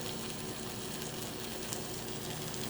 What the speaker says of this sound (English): we're gonna start cooking the bacon itself first